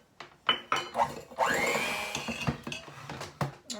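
An electric hand mixer creams half a cup of room-temperature unsalted butter for apple spiced muffins, a steady whirring run with clattering bursts as the beaters knock the bowl, close and fairly loud.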